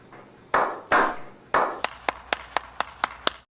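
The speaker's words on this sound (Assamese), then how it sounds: "এটা ডাঙৰ হাত চাপৰি" Hands clap in a short round of applause: three loud, slow claps followed by about seven quicker, lighter, evenly spaced claps, close by with no talking.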